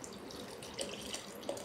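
Limoncello poured into a dish while cooking jerk shrimp, a soft steady liquid trickle heard close and quiet, with a couple of faint splashy blips and no talking.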